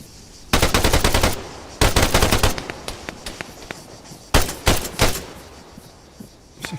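Machine gun fire in a video game rips out in several loud, rapid bursts, with scattered single shots and short pauses between volleys, close and dominant.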